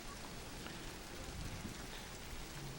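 Steady rain falls outdoors, a soft continuous hiss of drops hitting surfaces with no voices, even and moderately loud throughout.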